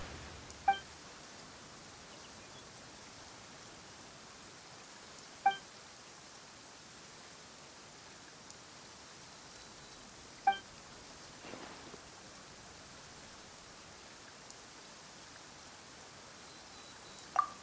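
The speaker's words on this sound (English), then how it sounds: "Why is it raining all of a sudden?" Steady soft rain hiss in the video game Genshin Impact, with a few sharp, isolated clicks or taps breaking through every few seconds.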